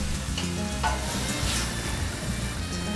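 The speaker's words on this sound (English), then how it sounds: "Stir constantly until the meat is mixed with the onions and garlic and no red color remains in the meat" Ground meat stirred with onions and garlic in a hot pan for moussaka, with a steady sizzle and continuous scraping and stirring throughout, close and even, with no voices.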